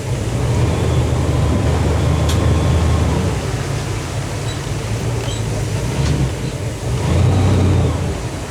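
Boat engine on a docking boat leaving its slip and shifting into reverse, a steady low rumbling drone that stays close and loud throughout and swells briefly near the end.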